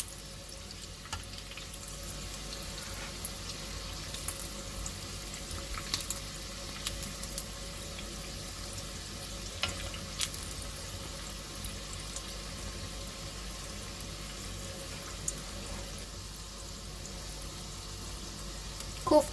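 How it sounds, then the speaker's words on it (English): Koftas frying in hot oil give a steady, even sizzle and fine crackle that holds throughout at moderate volume, with a few small pops scattered across it and no talking. "One by one, we will drop in our koftas in the hot oil."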